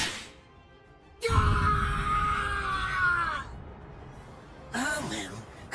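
A man screams in pain in the video game Bleach Rebirth of Souls, a long strained cry followed by a shorter anguished yell, close and loud over quiet game ambience.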